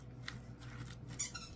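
A firm rubber ball inside a dog tug toy gives a few faint, brief high squeaks close by, scattered over a low background hum.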